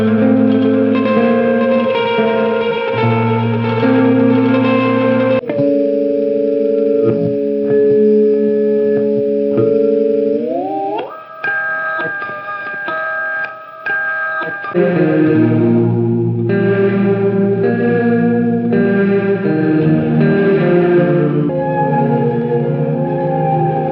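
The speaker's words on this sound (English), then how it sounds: "we have the 4A-DE Reverb and Delay from Maneco Labs." Maneco Labs Cuatro 4A-DE reverb and delay pedal demonstrated on an electric guitar: chords and sustained notes wash into long shimmering reverb tails and echoing repeats, with pitch-shifted swells in the middle, loud and without talking.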